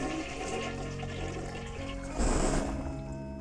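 A toilet flushes in a video game with a loud rushing, swirling gush of water that surges louder partway through, close and continuous with no talk over it.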